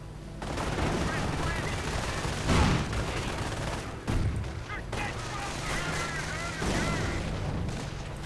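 Tank destroyer with a 17-pounder gun trading fire with a StuG assault gun in a WWII strategy game, heavy cannon shots and booms over a rumbling battle bed, with a commentator talking throughout.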